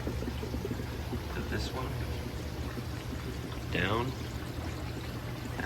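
Water pours and trickles steadily through the filter media of a backyard pond filter, a continuous near splash under a voice as he talks.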